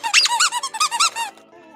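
A squeaky toy duck gives a rapid run of loud, close, high-pitched squeaks in quick bursts, then trails off into a fainter squeak at the end.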